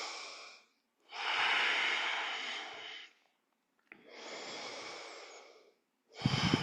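Slow, deep breaths during a yoga practice: long airy inhales and exhales, each lasting about two seconds, separated by quiet pauses, close and soft.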